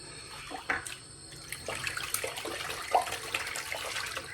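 A shaving brush is rinsed in soapy water in a sink, with steady close splashing and sloshing, intermittent drips and swishes of water, and small clinks against the basin, with no voices.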